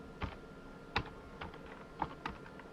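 Keystrokes on a computer keyboard as a format command is entered for a pen drive, five or six sparse, quiet, close taps with short uneven gaps.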